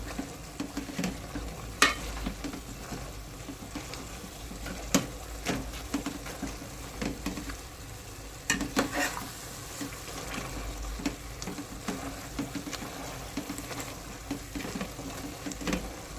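Pav bhaji vegetables being smashed and stirred in a pan over a soft sizzle, with repeated irregular scraping and knocking strokes of the utensil against the pan.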